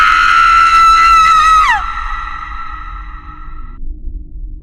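A woman's high, sustained scream rings out loudly for nearly two seconds in a horror story, then breaks off and sinks into a fainter, lingering tonal wail that fades away.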